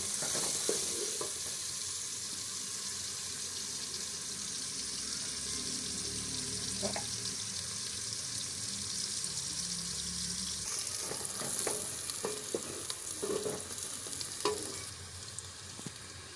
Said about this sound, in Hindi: प्याज को हमें हल्का ब्राउन करना है।